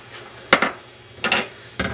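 A coffee pot is shifted aside on a kitchen stove while red chile is being served, giving three short metallic clunks and scrapes, close and moderately loud, with no talk.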